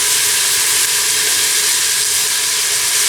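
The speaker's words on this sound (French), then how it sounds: "je fais colorer ma viande dans ce mélange" Meat sears with chopped coriander in a pan, giving a loud, steady, close hiss and sizzle that holds evenly throughout with no voices.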